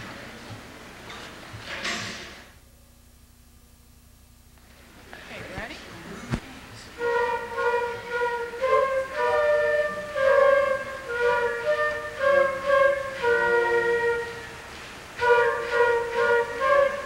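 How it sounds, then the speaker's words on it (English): A school band member plays a flute at a combined school band concert, starting after a talker and a brief hush, then a light melodic line of sustained notes with short pauses, clear and moderately near in a hall. "We're now going to demonstrate the sound of the flute."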